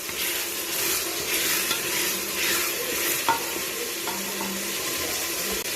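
Chopped onions with garlic and ginger frying in a pot for chicken biryani: a bright, continuous sizzle with a spoon stirring and scraping through it, close and fairly loud, with no one speaking.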